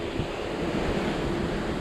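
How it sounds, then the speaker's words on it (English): Steady ocean surf washes around a Carnival Elation cruise ship at sea, a continuous broad rush of moderate waves mixed with wind buffeting the microphone, with no voices. "But these waves, they're just like, you know, normal."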